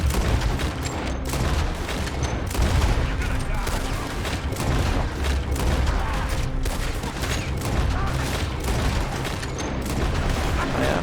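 Dense, continuous gunfire in Red Dead Redemption 2, with rapid overlapping shots cracking loudly throughout and a voice faintly talking underneath.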